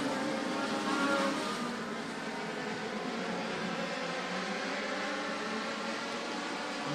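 Race cars roar down the back straightaway at Maquoketa Speedway during an MLDS feature, a steady, moderately distant engine drone without much change in pitch.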